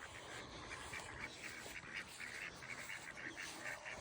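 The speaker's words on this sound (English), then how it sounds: "That's probably my favorite duck right there." Ducks in a backyard garden, including a green-headed drake, quacking in a steady run of repeated calls at moderate distance over a faint outdoor hiss.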